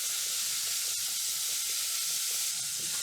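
Garlic oil sizzles steadily in a soup pot of carrots and other vegetables for chicken and rice soup, a continuous bright frying hiss with faint stirring scrapes and no talk.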